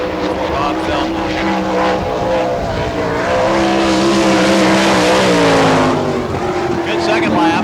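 Sprint race cars of the All Star Circuit of Champions lapping a dirt speedway during Florida Speedweek in Barberville, with loud, high-revving engines that rise and fall as they pass, heard steadily throughout with no talk.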